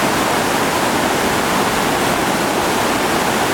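Whitewater rapids at Double Z Rapid in the New River Gorge, West Virginia, running around 1600 cfs: a steady, loud, broadband roar of rushing water, close and continuous, with no voices.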